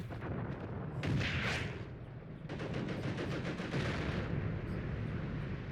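Battlefield artillery in the WWII tank game Tank Warfare: Tunisia 1943, with a steady rumble of distant booms and bursts, several sharper blasts crowding together in a sustained barrage.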